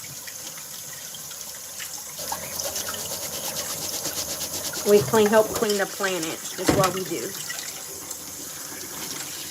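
Water runs from a tap into a jar or bowl in a home sink, a steady splashing stream that swells and gurgles midway, with a person talking over it.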